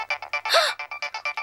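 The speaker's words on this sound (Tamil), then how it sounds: "இது போன் எங்க அடிக்குது?" A mobile phone ringtone plays a rapid series of short, evenly spaced electronic beeps, loud and close, with a brief swooping tone in the middle.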